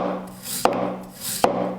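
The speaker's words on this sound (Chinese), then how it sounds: "然后我们把土豆切片，" A knife slices through a large peeled potato in two crisp strokes, each marked by a sharp tap on the board, with a near, dry, rasping cut between them and no talk.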